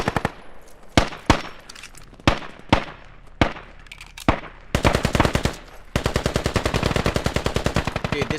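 M17 pistol fire in the tactical shooter game Squad starts as sharp, loud single shots spaced about a second apart, then breaks into rapid, dense bursts of automatic gunfire in the background.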